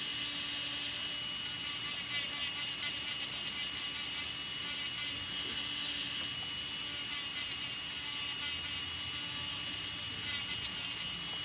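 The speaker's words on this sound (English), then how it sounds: "I'm still going to use the drills on top of here just to make sure it's nice" An electric nail drill smoothing gel nails and cuticles, a thin high buzz broken by rhythmic scraping passes that come in bursts and then ease off.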